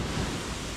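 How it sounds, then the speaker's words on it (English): Ocean waves surging and washing onto a beach on Pangkor Island, a steady broadband wash filling the short moment without a break and no one talking. "Make sure those waves don't crash and bite me"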